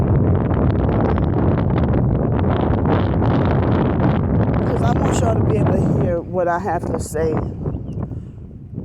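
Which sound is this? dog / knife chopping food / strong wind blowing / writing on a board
strong wind blowing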